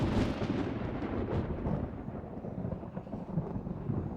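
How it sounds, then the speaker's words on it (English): A big storm outside sends a low, rolling rumble of thunder, loudest at the start and then fading to a muffled roar, heard alone without voices. "That is a big storm out there."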